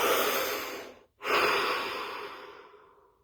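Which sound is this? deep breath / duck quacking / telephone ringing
deep breath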